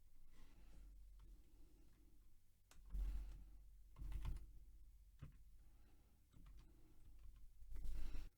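Keys clatter on a computer keyboard as a display name is entered, with a quiet, irregular run of taps mixed with a few louder thumps, faint and close, with no speech.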